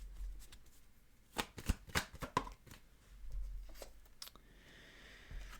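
Tarot cards being shuffled by hand for a trigger card: a quick flurry of riffling slaps and flicks in a close, quiet room, then a softer rustle and a final tap.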